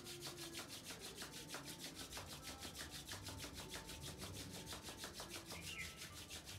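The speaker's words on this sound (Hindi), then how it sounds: "Just rub your both palm" Two palms rub briskly together in a fast, even back-and-forth rhythm, a soft continuous friction hiss that pulses quickly and stays faint and close throughout.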